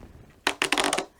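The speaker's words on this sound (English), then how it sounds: "should we see if we can shuffle these little cards?" A small stack of little board game cards is riffled in one quick, close burst of rapid flutters lasting under a second, loud against a quiet room.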